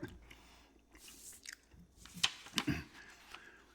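Close, quiet gum chewing with soft wet smacks and a few sharper crunchy bites clustered near the end, set against a faint low background hum.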